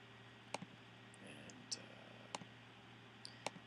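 A computer mouse gives several crisp, faint clicks at uneven intervals, some in quick pairs, over a low steady hum.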